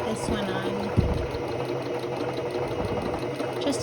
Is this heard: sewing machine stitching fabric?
yes